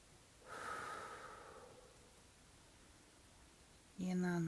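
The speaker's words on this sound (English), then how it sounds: "Take a deep breath in" A deep breath drawn in and then released during a guided meditation, a soft airy inhale swelling and fading, followed by a calm voice; quiet and close.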